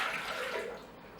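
About 500 grams of water is poured into a Thermomix bowl for steaming Germknoedel, a short, fairly quiet rushing splash that tapers off after a second.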